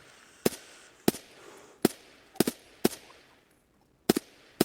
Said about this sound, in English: He is just shooting at people across the map